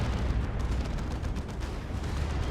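A Leman Russ tank fires its battle cannon in Dawn of War II: Retribution, heavy booms blending into a constant low battlefield rumble with scattered sharper reports. It stays loud throughout, with no one speaking.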